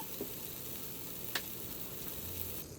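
Butter melts in a pan with a soft, steady sizzle that stays faint and even, broken by a couple of light ticks.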